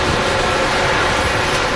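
A loud, steady jet aircraft engine roars at Manchester Airport, a dense, continuous blast of noise filling the whole short stretch with no pauses.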